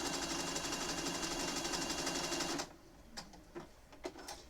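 A sewing machine stitches a Pokémon appliqué quilt with a fast, dense mechanical whir that runs loud and even, then stops abruptly and leaves a few faint clicks and taps.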